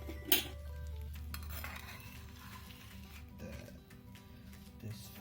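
Fried silver biddy fish, Malvani style, being plated in a home kitchen, with soft clinks of dishes and utensils, one sharper clatter early, over a faint sizzling background.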